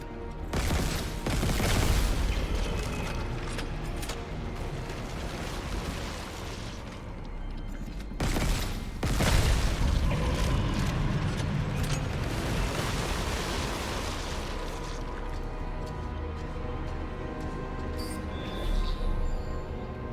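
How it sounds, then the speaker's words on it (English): Ongoing explosions and heavy combat noise in the Dead Space video game, loud and dense, with repeated booming blasts and mechanical clatter across the whole stretch and no talking. "There's definitely something that I've missed in terms of the explodey bits"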